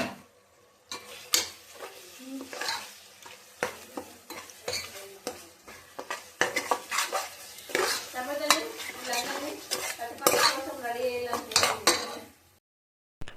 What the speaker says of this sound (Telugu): తర్వాత కొంచెం పసుపు వేసుకొని ఇక కలుపుకోవాలి.